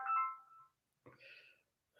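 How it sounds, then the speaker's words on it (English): Electronic phone ringtone from an incoming call, a melodic tonal chime that plays, pauses, then starts again, fairly close and clear with no talking over it. "someone's calling me"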